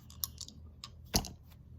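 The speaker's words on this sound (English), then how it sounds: "See these things? This is to roll your dice on." Dice tumble across a soft dice mat in a few light, muffled taps and clicks, one slightly stronger knock among them, quiet and close with no talk.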